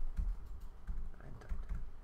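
Fingers tap on a computer keyboard in a few quick, uneven bursts of clicks, close and fairly quiet, with no talking.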